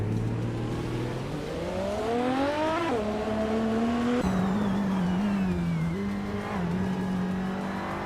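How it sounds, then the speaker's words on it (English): A 2024 Lamborghini Murcielago RG race car in a racing video game roars through gear changes, its engine pitch rising and dropping in steady sweeps, loud and close, with brief tire squeal and no talking. "Alocoast is driving a 24 Lamborghini Murcielago RG."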